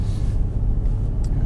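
Mercedes-AMG GLC 63 S SUV exhaust in Sport mode, a loud, close, continuous deep rumble with a few faint crackles near the end and no talking.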